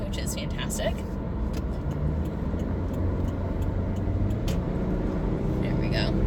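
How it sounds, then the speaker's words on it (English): Road traffic on Highway 93 with construction: a continuous low rumble of passing cars and heavier vehicles, steady and fairly near, with a few sharp ticks and clicks on top and faint speech-like sounds. "There's so much traffic on 93."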